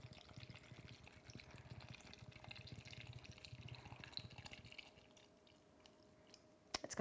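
Canned coconut water pours steadily into a dish for several seconds, a soft continuous trickling and splashing that tapers off, with a faint clink at the end.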